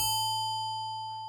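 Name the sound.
synthesized bell note from Vital synthesizer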